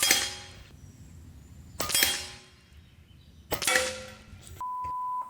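Three shots from an Umarex Origin .25 caliber PCP air rifle, each a sharp close crack with a ringing metallic tail, spaced a couple of seconds apart, followed by a steady electronic beep tone.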